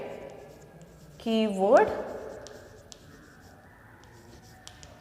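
Chalk or marker writing on a board during a class, faint scratchy strokes heard close by, briefly under a teacher's spoken word.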